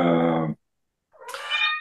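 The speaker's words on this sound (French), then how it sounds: "excusez-moi, j'ai un chat" A house cat meows twice, near and clear, with a short silence between the calls, the second cry higher and more drawn out.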